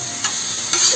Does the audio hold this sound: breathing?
no